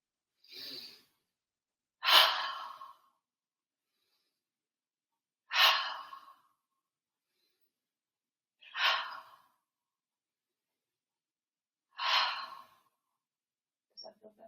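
Slow, deliberate breaths come through a shoulder exercise, five airy exhalations spaced a few seconds apart with silence between, close and moderately loud, each rising and fading like a sigh.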